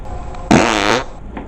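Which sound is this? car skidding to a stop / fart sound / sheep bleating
fart sound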